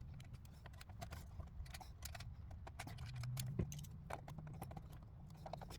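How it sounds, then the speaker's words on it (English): Small metallic clicks and rattles from a screw being driven in to secure an RTX 3090 graphics card in a PC case, soft and irregular over a low steady hum. "I'd put in the screw."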